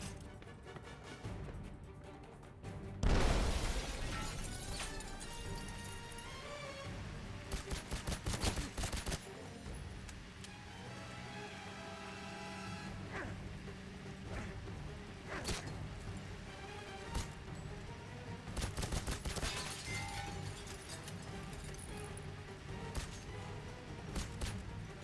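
Rapid rifle gunfire in 007 Legends: bursts of fast shots recur through a busy mix of background score and mechanical clatter, with one heavy impact near the start.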